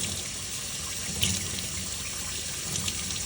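Running tap water splashing over a wet felt ball held under the stream during wet felting of a large bowl, a steady close rush with a few brief louder splashes.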